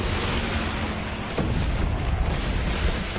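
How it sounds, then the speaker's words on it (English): A firebomb detonates in the strategy game Guns Up!, a broad, dense roar of blast and crackle sustained for several seconds with a sharper burst near the middle. "So let's hit the firebomb"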